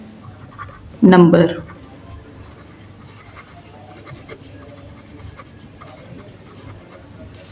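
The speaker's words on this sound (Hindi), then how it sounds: "तो यहाँ पर हम लिख लेते हैं इर्रेशनल" A short scratchy burst of handwriting on paper during a Class 9 maths lesson, followed by quiet faint scratching, with someone speaking over it.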